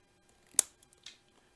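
Scissors trimming material on a leaded glass garden art project: one crisp, close snip followed shortly by a softer second cut, in an otherwise quiet room.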